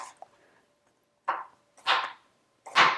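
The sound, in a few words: knife slicing pears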